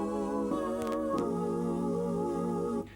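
A sustained Roland XP-80 synthesizer patch built from four layered tones rings out as a rich, layered tone, shifting notes a couple of times before cutting off near the end.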